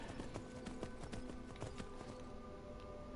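Horse hooves clip-clop at a steady trot in Skyrim, a brisk, even run of hoofbeats against a continuous game-world background.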